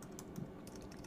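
Faint, soft taps on a computer keyboard while a command is typed into Git Bash, a few light keystrokes over a steady low background hum.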